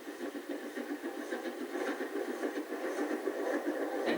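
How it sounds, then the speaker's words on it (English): A local N2 passenger train running on the East Coast Main Line toward its terminus, a steady mid-pitched engine drone with a quick rhythmic pulsing, moderately close and continuous, with no voices. "While a local N2 passenger heads towards the terminus."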